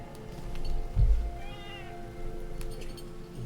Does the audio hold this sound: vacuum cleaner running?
no